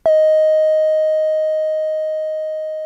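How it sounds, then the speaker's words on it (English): A single sustained electronic tone from an Electro-Harmonix Super Space Drum pedal, D sharp, with a sharp onset, holding one steady pitch and slowly fading for about three seconds, alone. "I used the Electro-Harmonix Super Space Drum to create a tone which sounded like this"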